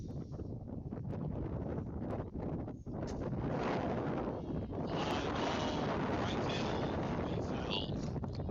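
Wind gusts buffet the microphone at an outdoor softball field, a steady low rumbling roar that swells louder midway, with faint talk mixed beneath it.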